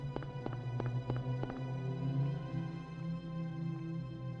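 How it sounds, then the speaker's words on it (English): Footsteps in the Silent Hill video game, a run of sharp clip-clop steps in the first second and a half over a steady low hum, fading into droning ambience afterward. "Run forward, hear footsteps."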